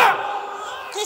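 A religious gathering crowd raises a slogan together, a loud burst of massed voices that swells at the start and then holds as a sustained chant.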